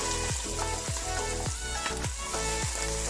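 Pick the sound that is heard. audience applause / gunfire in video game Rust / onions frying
onions frying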